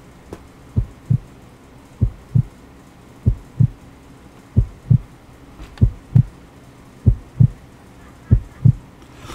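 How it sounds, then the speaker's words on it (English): A heartbeat in the video game Dreamy Rainbow 3D thumps in steady paired beats, about eight double pulses, loud and close over a quiet low hum, with no talking. "I hear a heartbeat."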